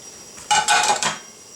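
A plate taken out and set down while making a spicy salmon roll, a few quick ceramic clinks and knocks in close succession, loud and near, with no one talking.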